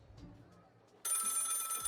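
A telephone bell in the video game Lil' Guardsman starts ringing abruptly and continues loud and steady after a quieter lead-in of faint background sound.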